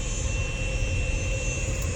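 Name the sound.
airplane moving at the LAX gate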